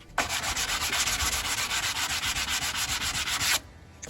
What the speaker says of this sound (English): And then we'll hand sand the rails.